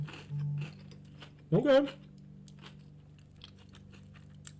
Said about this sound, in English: I'm going to take one more raw bite, naked bite